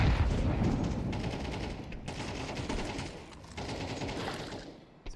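Dense rifle fire crackles through a professional Counter-Strike match on the Overpass map, rapid sustained bursts that stay loud and continuous, with a brief dip partway through and no talk over it.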